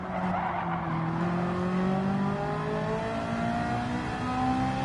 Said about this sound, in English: I'm going to be turning the car here now